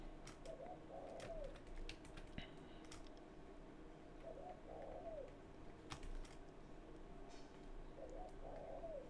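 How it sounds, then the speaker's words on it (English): A bird calls three times outdoors at well-spaced intervals, soft and fairly distant, under a steady hiss and scattered sharp clicks like keyboard typing nearby. "I have several birds that pop up outside, and I don't know which one this is"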